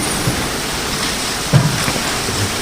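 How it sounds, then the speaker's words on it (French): Steady rain falling outdoors, a dense even hiss with a couple of heavier drops or thumps, fairly loud and constant, no talking. "avec la pluie qui tombe, on l'entend comme ça"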